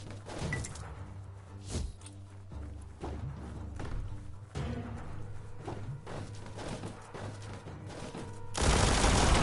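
Gunfire in the video game Biomutant aimed at an explosive barrel, a rapid string of sharp shots and thuds that ends in a loud, broad blast.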